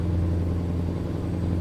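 A Scania 730 V8 truck engine with an OptiCruise gearbox in Euro Truck Simulator, a steady, deep droning rumble that holds one even tone throughout, close and loud, with no shifts or revving.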